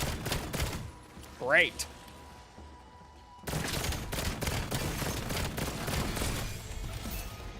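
Gray pistol fire in Call of Duty: Black Ops 7 Zombies, a few early shots, then a steady burst of rapid gunfire in the second half amid game effects, with a brief voice speaking in between.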